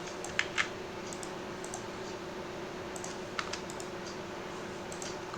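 Computer keyboard keys click in sparse, irregular bursts of a few strokes each over a steady background hum.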